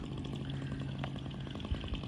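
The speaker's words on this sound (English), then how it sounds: "So we've got the chainsaws out" Chainsaws cut up tornado-damaged trees on a cool spring day, a steady buzzing engine drone running continuously at moderate distance with small rhythmic pulses and a couple of thuds near the end.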